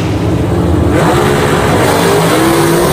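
Gasser drag race car launching down the drag strip at Aiken, North Carolina, a loud sustained engine roar that swells and rises in pitch after the launch.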